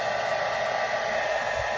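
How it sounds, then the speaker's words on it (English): A blow dryer runs steadily at close range, drying hot glue on a handmade Christmas wreath, a continuous even whooshing hiss with no pauses or talk. "I usually just take my blow dryer and just hit it a little bit"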